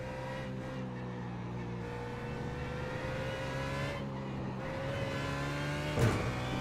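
A BMW Z4 GT3 race car in iRacing drones steadily through a long, even engine tone with slight pitch shifts and a brief burst near the end, loud and continuous without any voices.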